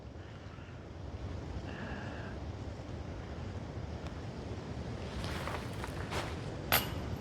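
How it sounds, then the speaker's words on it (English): Wind rushes steadily outdoors on a disc golf course, a broad continuous rumble buffeting the microphone, with a few faint clicks and small knocks near the end. "So there's a little bit of wind."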